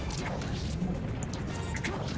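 Marth lands a forward smash in Project M during a tournament match, a sharp sword hit and crash among busy game effects, under crowd noise and commentator talk.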